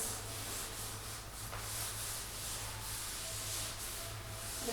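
A teacher rubs an answer off a classroom board, giving a steady, continuous scrubbing and rubbing texture with soft rhythmic swells, fairly close and alone with no talking.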